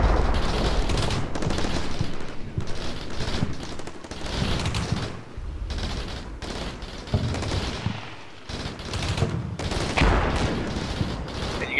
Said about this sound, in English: you can hear a Dishka firing from the ridgeline that I'm suppressing with MG3s